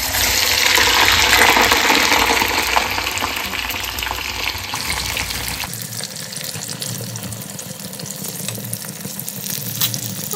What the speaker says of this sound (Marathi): तर आता मी सध्या ह्याला मकेन्स फ्राय करून देत आहे.